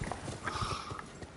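Horse hooves clip-clop in a steady, rhythmic patter of thuds in Elden Ring as the rider dismounts, set against a busy, continuous game ambience with faint tonal sounds.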